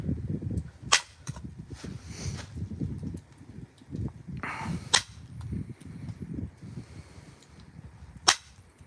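Creek chert being knapped into shape from large blocks: three sharp, isolated cracks spaced several seconds apart, close to the listener, over low rustling handling noise.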